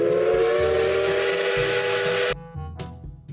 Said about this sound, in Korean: 뒤에 기차가 도착했는데 저와 같이 기차를 타고 한번 살펴보러 갈까요?